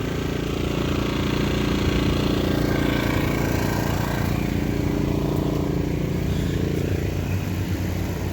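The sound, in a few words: portable generator running outside a van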